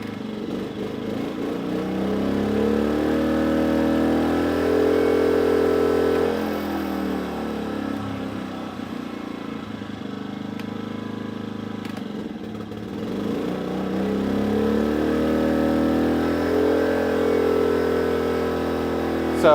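A Briggs and Stratton P2400 generator engine runs hard under load, a steady low mechanical drone that surges and dips in pitch as it labors, then recovers, continuous throughout.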